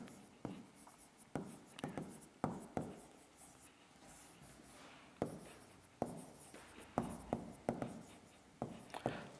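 A marker or chalk scratches across a board in short rhythmic strokes with brief pauses, writing out a name close up and fairly quiet, with no talk.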